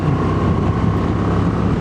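Honda Transalp 750 motorcycle engine humming steadily while riding, a continuous close drone mixed with heavy wind rush across the microphone.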